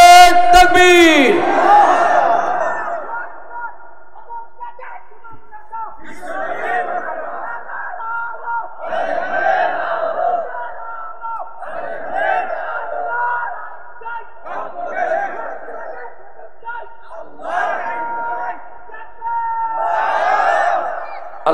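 A large rally crowd chants Allahu Akbar in answer to a takbir call: one voice calls, then massed voices respond in repeated loud, rhythmic shouts, regularly spaced and filling the space.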